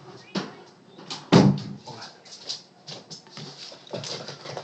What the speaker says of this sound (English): Well, I just closed the door.